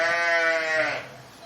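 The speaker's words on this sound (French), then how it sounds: "On a aussi un gros troupeau de brebis, on a des tarasconnaises, 450 brebis à peu près" Tarasconnaise sheep from a flock of about 450 ewes bleating, a single loud, wavering call close by that fades out after about a second.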